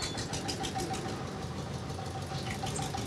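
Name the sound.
tractor passing by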